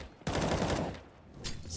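Counter-Strike match gunfire: a sudden loud burst of rapid shots that sustains briefly, fades, then a few further sharp reports, close and dense.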